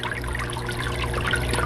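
Water runs out of the drainage holes of a houseplant pot, a steady, close trickle and splash that continues without a break.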